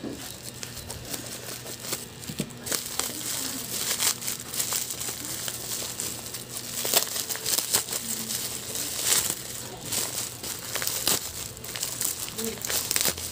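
A parcel from Zamboanga is handled and unwrapped, its tightly wrapped packaging crinkling and crumpling continuously up close while a person talks over the rustling.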